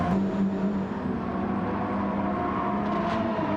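A racing car engine drones steadily in Gran Turismo 7 after leaving the pits, a sustained mid-pitched hum with slight variation and no talking.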